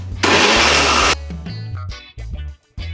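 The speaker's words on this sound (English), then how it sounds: "We're just gonna blend that out." A kitchen blender whirs loudly for about a second, blending water, nutmeg, cinnamon powder and flour for Jamaican hominy corn porridge, then cuts out and gives a few short bursts.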